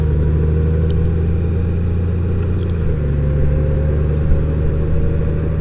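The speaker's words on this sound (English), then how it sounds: "Right away it shifts up into 5th gear." A 2018 Honda Goldwing DCT motorcycle on a test ride, shifting up into fifth gear around 50 km/h, a steady loud engine drone with a low hum whose pitch drops slightly partway through, wind noise above, no talking.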